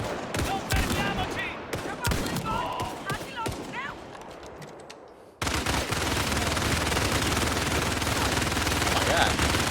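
Sharp repeated gunshots from the famous revolver in Indiana Jones and the Great Circle, close and loud, mixed with game effects and talk in the first half, followed by a dense, steady noisy wash.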